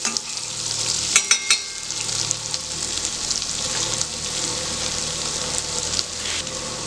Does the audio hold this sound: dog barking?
no